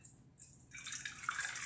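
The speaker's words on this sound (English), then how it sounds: "Let me pour in the hot water." Hot water pours into a cup for bread dough, a soft rising splash and trickle that begins partway through and builds, faint and close with no talk.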